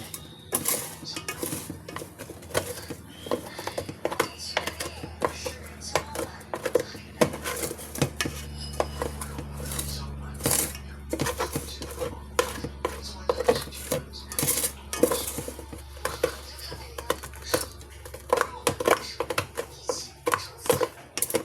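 Pots, dishes and cutlery clatter and clink close by in a home kitchen while rice is being cooked, with irregular metallic knocks and scrapes running steadily throughout and no talking.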